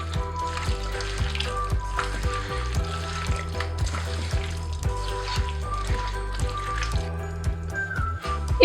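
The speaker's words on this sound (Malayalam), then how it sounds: "എന്നിട്ട് നന്നായിട്ടൊന്ന് മിക്സ് ചെയ്ത് കൊടുക്കാം." Thick coconut milk being stirred into a simple chicken curry in a pan: wet bubbling and gentle sizzle with rhythmic stirring strokes throughout, close up, no speech.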